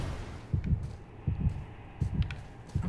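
Low-health heartbeat effect from the video game God of War (2018): a muffled double thump repeating at a steady, slow pulse, four beats in a row, fairly quiet with a faint hum beneath.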